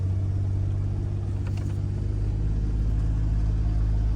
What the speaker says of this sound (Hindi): मजा आ रहा है गाड़ी चला के यार।